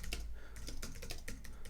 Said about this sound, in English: I'll just type some text.